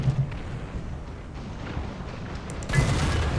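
Tank cannon fire in War Thunder, a shot striking a T-44's gun mantlet: a low rumbling boom underneath, then a sharp, loud impact burst near the end, with no speech.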